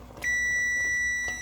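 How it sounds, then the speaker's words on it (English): A kitchen timer sounds during a canning session, giving a single steady high-pitched electronic beep that holds clearly for over a second in a quiet room. "as soon as this timer goes off"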